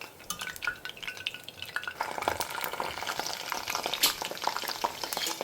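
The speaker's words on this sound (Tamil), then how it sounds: "மொத்தத்தையும் நான் எண்ணெயில் பொரித்து எடுத்துகிட்டு காமிக்கிறேன்." Pieces of eggplant fry in hot oil for a Tamil dish, giving a dense, continuous crackling sizzle with sharp pops that stays steady and close, with no voices.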